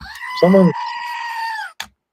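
A goat gives one short, harmonic bleat close by, with a steady tonal voice-like sound running underneath and a brief click at the end.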